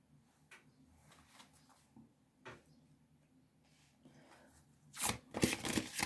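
Tarot cards are handled quietly, with soft scattered slides and taps before a louder burst of shuffling riffles near the end, close and intimate with no talking.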